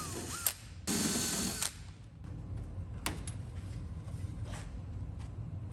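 A power drill cutting out rivet heads on a Mustang body being stripped for paint, several short whirring bursts with one longer run, separated by quiet gaps and a few metallic clicks, close and loud.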